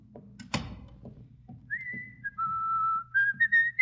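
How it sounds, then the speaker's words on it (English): A person whistles loudly in a hallway, a clear sustained tune following a brief thump near the start, alone with no talk. "Hey, do you think you should whistle so loudly"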